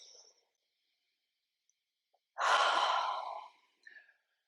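One slow, deep exhale during a grounding breathing exercise, close and breathy, in near silence. A faint short breath sounds just before it and a softer one after.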